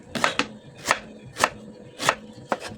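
A knife cuts an ingredient on a board in steady, evenly spaced chops, about five or six crisp strokes with faint background noise and no voices.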